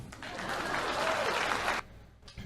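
A loud burst of applause with dense clapping swells for under two seconds, then cuts off abruptly, leaving quiet room tone and a brief faint noise near the end.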